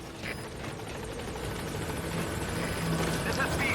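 Pequod helicopter from Metal Gear Solid V arriving, a steady close rotor thrum and engine whine holding constant, with voices speaking over it.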